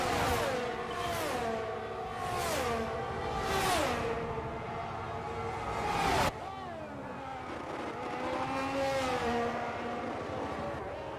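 Formula 1 race cars in the VR racing game F1 23 roar past, engines rising and dropping in pitch through repeated gear shifts, with several cars passing close and a sharp cut to another engine note midway.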